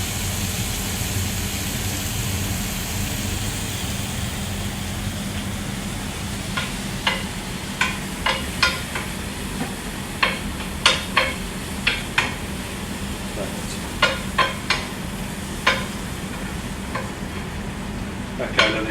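Butter roasting in a hot pan gives off a steady sizzle, with sharp scraping and stirring clicks breaking through it again and again during the second half.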